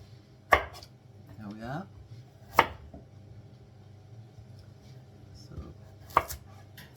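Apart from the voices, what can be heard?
chopping vegetables with a sharp Arcos knife from Spain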